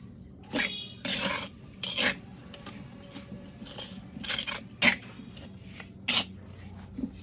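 Potting soil is scooped and poured into a plant pot in a garden in a series of close, scraping, gritty rasps, about six bursts in irregular rhythm over quiet background.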